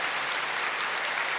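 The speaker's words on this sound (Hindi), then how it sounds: "आप ताली बजाओ" Audience applause at a Brahma Kumaris spiritual gathering, a dense steady wash of many hands clapping with no break for the whole stretch, loud and even throughout.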